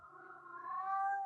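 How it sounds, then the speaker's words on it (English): Leo the cat lets out a single drawn-out, rising meow, clear and close, with no other sounds around it. "Yes, Leo's a talking cat."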